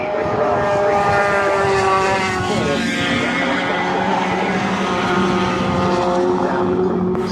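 Touring race cars roar past at Brands Hatch along the Cooper straight toward Surtees, their loud, continuous engine note rising and falling with shifting pitch as several cars pass close by in quick succession.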